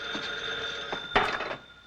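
A telephone rings in the 1941 film Confessions of Boston Blackie, a steady electric ring with a louder burst near the end, heard at moderate level with no voices.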